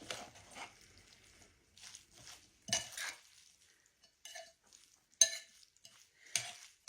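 A spoon stirring coleslaw in a bowl, giving quiet intermittent clinks and soft wet scrapes in short bursts, close up with no talking.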